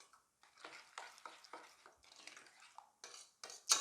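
Spoon stirring a thick yogurt and spice marinade into a paste for a charcoal-roasted goat leg, with a series of short, close scraping and squelching strokes against the bowl, ending in a sharper clink.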